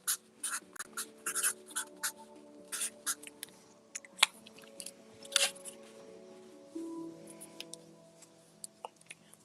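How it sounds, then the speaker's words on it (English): Pen scratching across a card in short, close strokes, a series of quick scribbles and taps with a faint hum beneath, no voices. "I'll just write test 2 on that."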